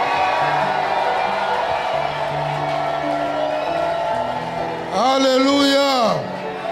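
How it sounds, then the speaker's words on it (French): A church congregation shouts and cheers in praise, a loud crowd roar swelling under a preacher's voice, with a high sustained whoop rising near the end. "Oh, give the Lord a shout."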